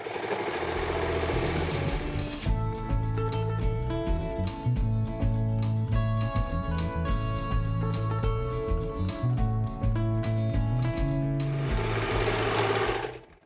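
A sewing machine runs steadily while stitching quilt seams for a beginner throw quilt, a close, fast mechanical whir and rattle that starts after a moment of background noise and stops near the end.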